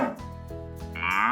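A cow moos close by in one long, loud, tonal call that wavers in pitch and rises toward the end, with no other sounds around it.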